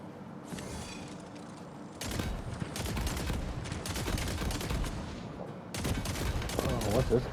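Rapid video-game gunfire from Tiny Tina's Wonderlands, bursts of automatic shots in long stretches broken by brief pauses, steady and moderately loud with mechanical clicks between volleys.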